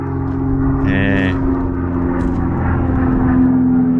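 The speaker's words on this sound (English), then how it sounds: "Anyway, here's a plane." An airplane drones overhead behind a pub in outback Queensland, a steady loud engine hum that holds throughout, with a brief voice breaking in near the start.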